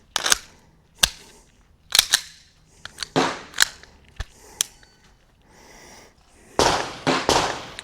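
A SIG P211 pistol with a standard recoil spring fires at a shooting range: a dozen or so sharp, loud reports in irregular single shots and quick clusters, close by.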